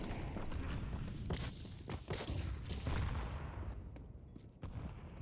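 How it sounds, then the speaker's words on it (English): Rapid game footsteps and bursts of gunfire in a Counter-Strike match, dense and fairly close, with overlapping shots and thuds through the short stretch and no talking. "Zukar's hearing a lot of footsteps, so he's going to retreat those sound cues."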